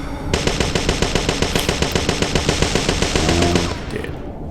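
Sustained burst of rapid automatic gunfire in the video game Parasite Eve II, a dense, loud, even stream of shots lasting several seconds before cutting off, with no talk over it.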